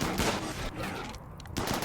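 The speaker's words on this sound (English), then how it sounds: "Dude, this fire is deadly accurate." Rapid, dense gunfire from a firefight in the colony-sim game RimWorld, a sustained burst of loud, broadband shots with little pause across the short stretch.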